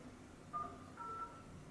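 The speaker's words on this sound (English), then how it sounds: "You can make a phone call." Two short, faint dialing tones from an Android 8.0 touchscreen head unit in a Honda CR-V, one brief and one slightly longer, sounding softly over quiet cabin background noise.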